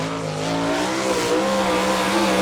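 A sprint car runs a lap of a dirt oval at the Chillicothe, Ohio All Star Circuit of Champions race, its engine a loud, steady, sustained roar with slightly shifting pitch and no voices.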